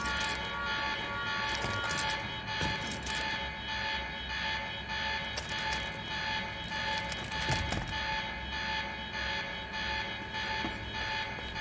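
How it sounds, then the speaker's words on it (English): Looping electronic alarm in the video game Quantum Break, sounding as the facility locks down: a steady, loud droning tone repeating with a regular pulse over background game ambience, no voices. "The alarm must have locked everything down."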